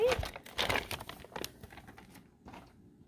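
Sticker sheet handled up close for a felt craft project: soft crinkling and rustling of paper, loudest at first, then fading into scattered faint taps and rubs.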